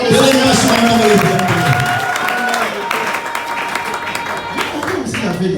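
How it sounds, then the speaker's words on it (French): A crowd applauds and cheers at a celebration honoring women, loud sustained clapping with a faint tonal layer of voices or music running underneath throughout. "Acclamons très fort les Bele femmes."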